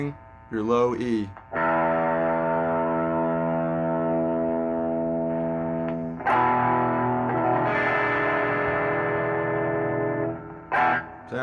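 Open low E string on an electric guitar rung out repeatedly for tuning, with a distorted effects tone; sustained notes ring several seconds each with brief picking noise between, loud and close.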